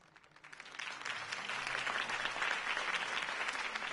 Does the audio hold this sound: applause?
yes